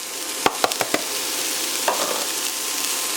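Grated courgette fries with onions in a pan over medium heat, with a steady soft sizzle and a few sharp scraping knocks from the stirring, with no one speaking.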